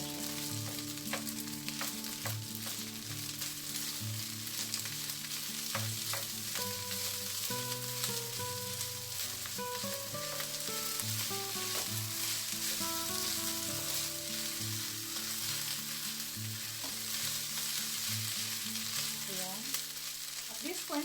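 Star margarine sizzles and fries in a pan for pineapple fried rice, a steady crackling hiss under faint scraping and background hum.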